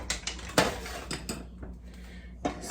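A spoon clinks and scrapes against a pan while stirring thick chocolate gravy, with several sharp metallic knocks at irregular intervals and quieter scraping between them.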